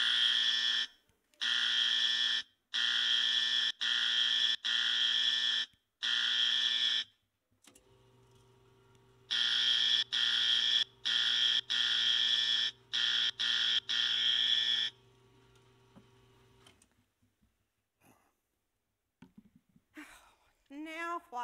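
Nurse call buzzer in a hospital-set play, a loud electronic tone sounding in repeated bursts of about a second each, two clusters with short gaps, then a lower steady hum and a voice speaking near the end.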